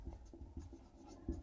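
Pen or chalk writing out a date during an accounting lesson, soft quick scratching strokes in an irregular rhythm, faint and close, with no talk over it.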